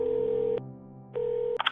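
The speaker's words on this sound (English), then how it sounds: "I took my phone out and rang him." A phone places a call: two long steady ringback tones separated by a pause, close and clear, followed by a brief clatter as the line picks up.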